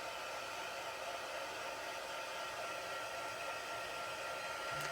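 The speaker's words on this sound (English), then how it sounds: "I'm going to hit this with my heat tool just to dry it" A handheld heat tool blows hot air to dry freshly stamped pigment ink on paper, a steady, continuous whirring roar at close range that holds level from start to finish with no talking.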